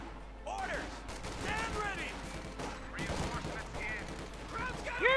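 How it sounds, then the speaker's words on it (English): Rapid bursts of gunfire from a Company of Heroes 2 World War II strategy game battle, dense and continuous over the whole stretch with voices talking over the shooting. "I'm shooting me some genuine krauts"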